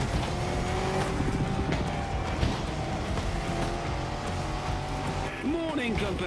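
Off-road 4x4 race car engine in The Crew Motorfest, a steady loud drone throughout with tire noise, and voices talking over it.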